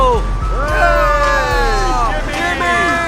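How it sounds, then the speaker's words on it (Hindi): An ice cream truck plays its chiming tune outside, sliding melodic tones sounding loud and steady under a low engine rumble, with people talking and chattering over it. "हम एक आइसक्रीम ट्रक लाए हैं"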